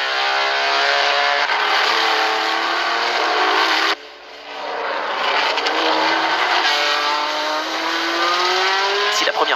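Matra and Porsche race cars, including Porsche number 22 and Matra number 9, roar past on the track in succession, loud engine whines rising and falling as each car sweeps by, with a sharp cut partway through.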